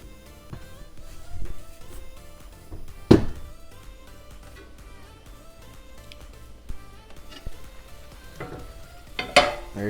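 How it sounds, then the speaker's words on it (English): Mussels simmering in white wine in a pot, giving a low steady bubbling sizzle, with a couple of sharp thunks and clatters of cookware standing out over it, close and without talk. "While those mussels are simmering away"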